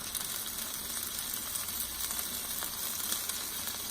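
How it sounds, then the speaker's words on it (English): Chicken searing in a hot pan for a creamy chipotle keto dish, steady crackling sizzle with small pops, close and constant, no voices. "We're going to get a nice sear on it"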